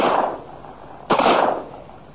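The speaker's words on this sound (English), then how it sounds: "The 3 prisoners shoot at them." Two sharp gunshot bursts from a sound effect in a dramatized Robinson Crusoe audiobook, fired by three prisoners. The first shot rings at the very start and the second about a second later, each loud with a short decaying tail.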